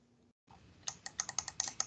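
Quick run of clicking keystrokes on a computer keyboard, about eight distinct taps in a steady rhythm, fairly close and clear in a quiet room with no talking.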